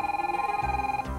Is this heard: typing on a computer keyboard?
no